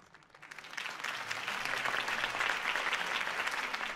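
Crowd applause at a political campaign rally for Harvey Dent in Batman: The Telltale Series, swelling from quiet to steady clapping and holding moderately loud throughout.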